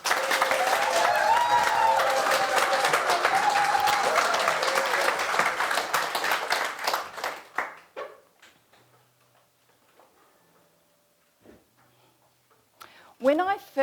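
An audience at a District 73 International speech contest final applauds to welcome a contestant to the stage: dense, steady clapping from the crowd for several seconds, then it quickly fades to a quiet room with a few small stray noises.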